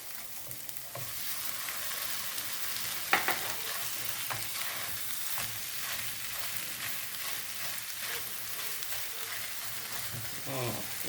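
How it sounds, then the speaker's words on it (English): Canned corned beef sizzles and fries steadily in a hot pan, a dense continuous crackle with scattered scraping and stirring clatters over about eleven seconds, no speech. "So now I'm gonna put in the corned beef."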